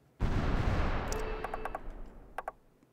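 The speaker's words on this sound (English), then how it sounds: "the Japanese are bombarding the heck out of these Russian islands" Heavy, continuous bombardment in the strategy game Supreme Ruler Ultimate, Japanese forces shelling Russian islands: a dense roar of blasts and gunfire, loudest at first and thinning out, with a few sharp high clicks near the end.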